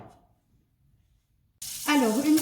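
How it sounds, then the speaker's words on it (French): Butter and garlic cloves start sizzling loudly in a hot pan, a sudden steady frying hiss after a near-silent pause. "une fois que mon beurre et mes gousses d'ail ont rissolé"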